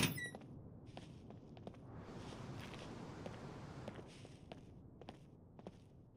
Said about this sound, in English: I can hear the footsteps.